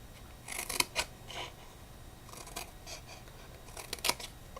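Scissors snipping a small tab of a cardboard pizza box at an angle, a few quiet crisp cuts in two short clusters over a faint room hiss.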